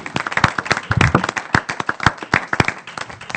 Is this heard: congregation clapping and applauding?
yes